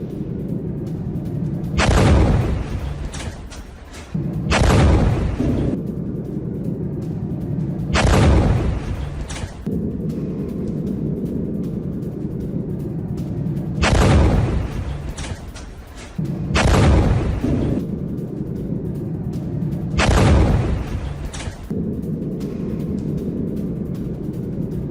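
A series of six heavy booming blasts from a rocket attack on Prince Sultan Air Base, each a loud broad burst lasting about a second, spaced several seconds apart over a constant low rumble.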